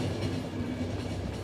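An empty train rolls along in The Final Station with a loud, continuous rumble and rattle of wheels on rails, a steady clatter filling the whole stretch with no voices.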